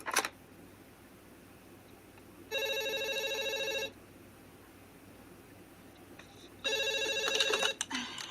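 A telephone rings in the film Scream, two distinct bursts of electronic trilling each about a second long, separated by a quiet gap with faint background hum.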